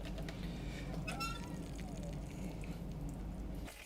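Water mixed with pink antifreeze flows through a camper's shower line, a steady low splashing and hiss that runs throughout with a faint squeak partway and a voice speaking over it.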